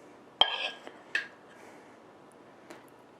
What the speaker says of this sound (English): we're going to scoop it over our salmon pieces